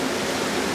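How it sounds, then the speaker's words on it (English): Steady, dense rush of churning water from the jets of an Arctic Spas Cub hot tub, loud and close, a continuous broadband wash with no pauses and no voices. "as I turn this off, and I turn this big one off, the rest of the jets are getting more powerful"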